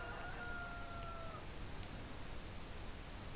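Chickens in a pen in the video game Port Limbo, a few high, drawn-out crowing or clucking calls early on over a steady noisy ambient bed, then only the background hiss continues.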